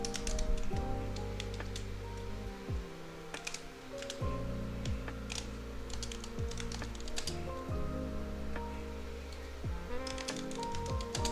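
Keys clatter steadily on a computer keyboard as a policy name is entered, a dense run of quick clicks layered over a low, steady hum from a nearby machine.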